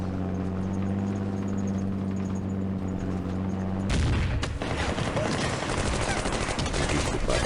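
Sustained bursts of rapid gunfire and explosions erupt from a Middle East wargame assault, loud and dense, following a steady droning engine-like hum.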